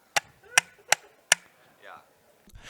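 Four sharp, loud clicks from the shifter paddles of a Cube Controls sim racing wheel, evenly spaced about half a second apart, followed by faint rustling and a soft noise at the end.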